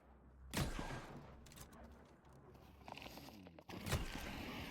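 Gunfire from a weapon in the video game The Cycle: Frontier, on the Crescent Falls map, with two sharp loud shots separated by a few seconds of quieter crunching movement and ambient game sound.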